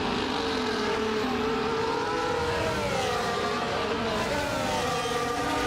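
F1 race cars in a video game race at the Portuguese Grand Prix roar continuously, engines whining and shifting pitch as they pass with DRS, a sustained loud high-revving drone without speech.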